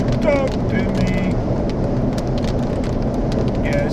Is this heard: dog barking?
no